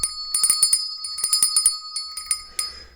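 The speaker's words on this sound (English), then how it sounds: "And so I will now ring the bell." A physical hand bell rung by a streamer in a workshop, sounding in a quick series of bright metallic strikes with ringing overtones, close and fairly loud, each stroke decaying before the next.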